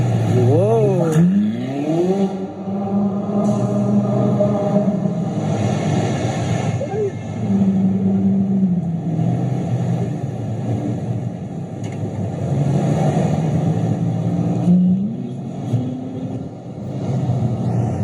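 A car engine revs and surges while being driven fast and hard, the pitch climbing and dropping repeatedly through about eighteen seconds, with voices talking over the engine noise inside the vehicle.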